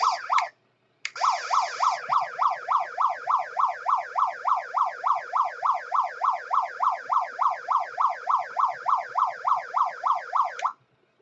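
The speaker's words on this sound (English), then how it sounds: "turn your siren on" An RC wrecker truck's electronic siren gives a short wail, cuts out briefly, then cycles steadily in a fast, loud, close up-and-down warble for about ten seconds before stopping.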